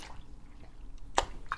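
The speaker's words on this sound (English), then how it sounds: "Yes, I have to drink some water to that." Water being drunk close up: small wet sips and a gulp or two, soft liquid sounds against a quiet room.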